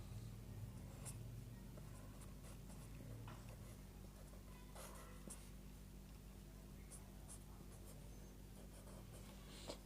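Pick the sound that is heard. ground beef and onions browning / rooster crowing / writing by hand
writing by hand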